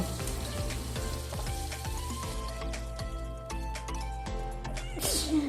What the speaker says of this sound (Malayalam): ഇപ്പം മീൻ പൊരിക്കുന്ന സമയത്തും ഞാൻ അടച്ചു വെച്ചാണ് കൂടുതലും പൊരിക്കാറ്